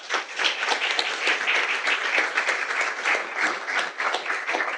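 Steady, dense applause from a lecture-hall audience welcoming the speaker at the 2025 Wheatstone Lecture, sustained and even throughout with no voices over it.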